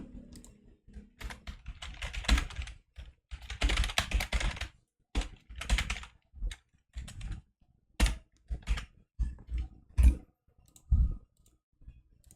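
Someone types code on a computer keyboard, with irregular bursts of rapid key clicks separated by short pauses. Some key strikes are louder and sharper, and the sound is close and clear with no talking.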